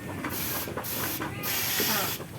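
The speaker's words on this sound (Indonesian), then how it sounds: "tempat minumnya biasanya saya semprot dulu, disterilkan dengan desinfektan" Disinfectant is sprayed onto a chick drinker in close, hissing bursts: three short pumps, then one longer steady spray.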